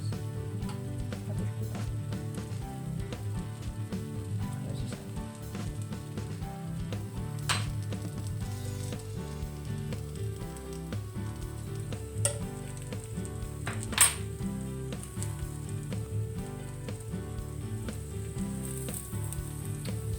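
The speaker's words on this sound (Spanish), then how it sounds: "Vamos a echar un chorrín de aceite por los bordes." A vegan filled omelette frying in a pan with oil drizzled around the edges, giving a continuous even sizzle with a few sharp clinks of utensils, close and steady with no speech.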